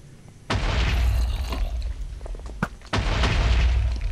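Explosions in the Minecraft video game blasting a hole into a player base: two loud, close booms, one at the start and another about two seconds later, each followed by rumbling debris and crackle, with no talking.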